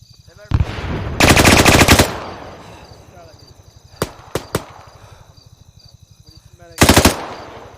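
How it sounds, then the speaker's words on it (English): Gunfire in Arma 3: a single shot, a sustained loud burst of rapid automatic fire, three sharp separate cracks, then another short loud burst, over steady insect-like ambience and low rumble. "Shots from the south somewhere."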